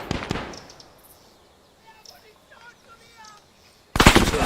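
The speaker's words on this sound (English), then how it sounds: "that machine gun is really lighting us up" Machine gun bursts in the WW2-themed ArmA 3 game, a loud rattling burst at the start and another sudden heavy burst at the end, with quieter distant battle noise in between.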